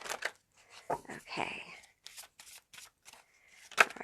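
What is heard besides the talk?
shuffling a deck of pick-a-card reading cards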